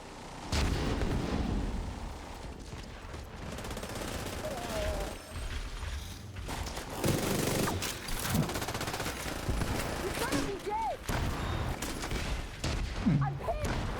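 Bursts of automatic gunfire from several light machine guns and rifles, among them an RPK, L86 and MG5, crackle through a video game battle, with repeated volleys over a steady loud din and occasional talk.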